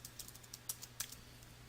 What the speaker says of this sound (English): Reconfirm the password that you just typed by typing it again into the Confirm